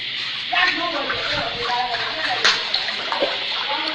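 Floodwater in flooded Ghanaian streets flows and splashes with a close, uneven sloshing wash, brief splashes standing out above the steady water noise.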